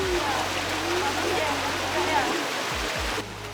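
Water pouring steadily from spouts at a Bali purification temple, a continuous rushing splash with someone talking over it and low hum in the background.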